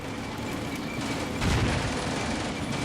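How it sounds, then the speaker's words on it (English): Artillery shells exploding in the Combat Mission: Afrika Korps battlefield, a rumbling series of blasts and crackling bursts with a heavier boom partway through, moderately loud and unbroken by speech. "Blasting in the air, it's just hitting the wall here and then it just exploding"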